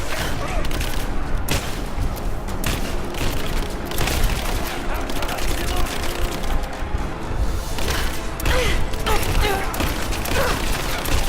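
Gunfire from Rise of the Tomb Raider rattles in dense, overlapping bursts for several seconds, loud and close, mixed with clanking game sounds and a faint voice now and then.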